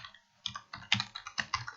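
Fingers tap out a quick string of keystrokes on a computer keyboard, light clicky presses after a short pause, close and quiet with no talking.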